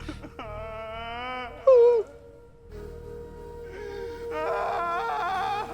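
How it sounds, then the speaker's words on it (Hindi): A woman cries in long, wavering wails and moans, with a sharp sob in the middle before the crying rises again, loud and close throughout. "अभी किसी औरत के रोने की आवाज सुनाई दे रही है हमको"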